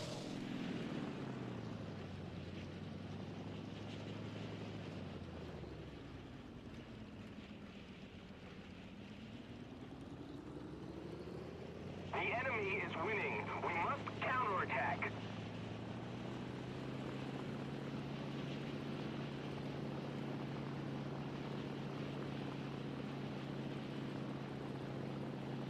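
A KI-45 twin-engine propeller plane in War Thunder drones steadily as it comes in for a soft landing, its engine pitch dipping and rising again, with a brief rattling clatter midway; no one talks.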